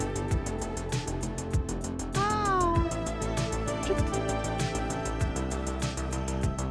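A kitten meows repeatedly inside a house, its rising-and-falling cries clear and fairly close over a steady background of electronic pinball game music.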